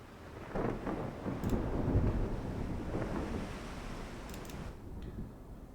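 Rumbling thunder with wind and rain from a storm at sea in a naval battle video game, a low rolling swell that builds and fades with gusty noise.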